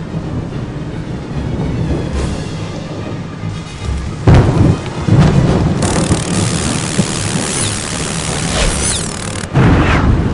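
Thunderstorm in the Harry Potter and the Prisoner of Azkaban PC game, loud rumbling thunder rolling in heavy bursts over a constant roar of wind and rain, with a sharp crack midway and another late.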